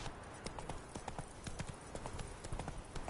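Hooves of Roach, the horse in the video game The Witcher: Wild Hunt, clip-clopping in a quick steady trot rhythm, faint and continuous over the whole stretch with no voices.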